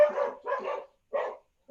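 Dogs bark at a parcel delivery at the door, three sharp barks close by, two in quick succession and a third after a short pause.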